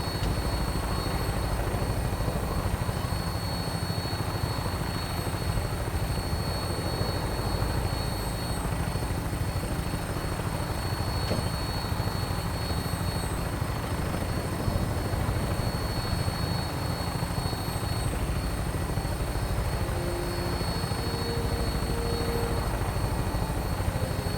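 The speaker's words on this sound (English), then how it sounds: "Flying around in a 200-year-old aircraft?" An old vertibird aircraft in the game Fallout 4 flies along with a loud, steady rotor and engine drone that holds constant and close throughout, with no voices over it.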